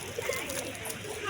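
Pigeons cooing, with a couple of soft, low coos early on over faint steady background noise.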